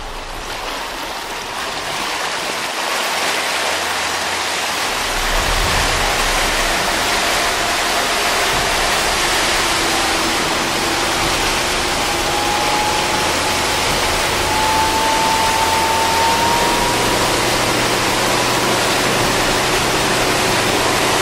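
Nimbus 305 Coupe motorboat accelerating through open water, a steady loud rush of hull wash and spray with a rising engine tone building over about twenty seconds, no voices.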